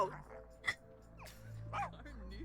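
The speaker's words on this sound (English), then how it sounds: "She is obsessed with this dog." A pet dog in The Sims 4 gives a few short, soft yips and whimpers amid game sound effects and a steady background hum.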